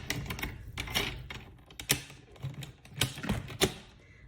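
Scoring cardstock for a Stampin' Up! tri-fold card: a run of short, dry clicking and tapping strokes at close range, a few sharper snaps standing out, with no voices.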